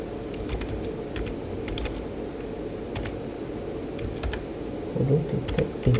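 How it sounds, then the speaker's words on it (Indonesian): Steady, quick keystrokes tapped on a computer keyboard, close and clear, running continuously over a low background hum with a few heavier clicks near the end; no one speaks. "kita ketikkan"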